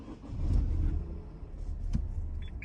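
A Dacia Duster II Prestige ECO-G 1.0 TCe 12V LPG petrol engine starts straight away, catching with a low rumble that settles into an even, close idle, with a brief click partway through.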